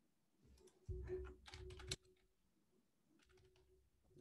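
Quick bursts of close computer keyboard typing, a cluster of clattering keystrokes in the first two seconds followed by lighter, sparser taps, over a quiet background hum.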